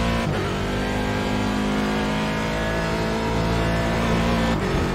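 A race car engine in the iRacing sim at Daytona roars steadily under heavy throttle, loud and continuous with a sustained droning pitch and slight rises, filling the whole stretch without any talk.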